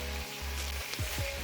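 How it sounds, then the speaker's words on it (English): Collard greens frying on medium heat in butter, bacon fat and olive oil, a brief steady sizzle with a low hum beneath and a couple of soft clinks or stirs near the end. "the greens are frying on medium heat at this time"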